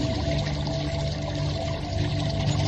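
Water bubbling and gurgling in a marsh, a continuous dense churning wash that stays loud and even, with no voices.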